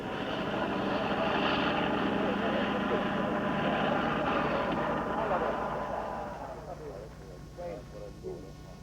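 Engines of Italian Caproni bombers of the Regia Aeronautica, a loud steady propeller drone filling most of the clip before easing off and thinning toward the end, with no talk.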